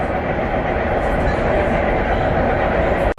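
A train crossing the bridge into Cambridge gives off a loud, steady broadband rumble and rush that holds unbroken for a few seconds and cuts off abruptly at the end.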